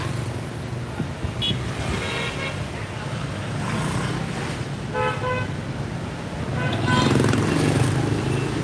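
Busy street traffic with car horns tooting now and then, engines humming steadily under the noise and a rumble swelling toward the end, in a warm place where people step into the road with no stop signs.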